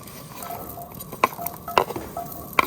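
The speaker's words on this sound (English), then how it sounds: "And now we're gonna fry the potatoes." Potatoes frying in a pan at a camp kitchen: a soft sizzle underneath with a few sharp clinks and scrapes of a utensil against the pan, close and intermittent.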